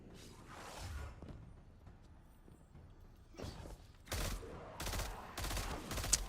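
Bursts of gunfire from a gun in Destiny 2 come in separate volleys, a few early shots followed by a dense rapid run of loud reports near the end, with no talk over them.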